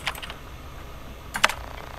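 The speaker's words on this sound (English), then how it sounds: "Yeah, I can type now." Keystrokes on a computer keyboard in the video game Event[0]: a quick cluster of clicks at the start, a pause, then a sharper burst of several taps near the end, close and fairly quiet.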